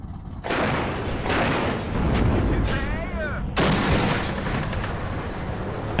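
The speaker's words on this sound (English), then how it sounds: "They changed the sound of guns in general on these tanks." Heavy tank guns boom in the WARNO strategy video game, several loud cannon blasts with rolling echoes over a continuous rumbling battlefield roar.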